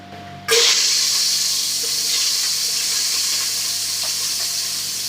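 Whole spices and sliced garlic hit hot oil with a sudden loud sizzle that settles into a steady, bright hiss, slowly fading over a few seconds with no talking.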